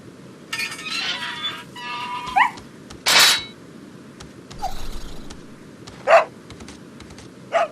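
A dog barks in short, separated bursts within the Resident Evil 4 game, several sharp yelps spaced over a few seconds against a low steady ambient hum.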